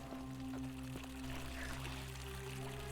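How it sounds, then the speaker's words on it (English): Fountain water flows steadily in The Forgotten City video game, a soft continuous pouring and trickling stream heard alone at low level over a faint background hum. "A fountain producing fresh waters."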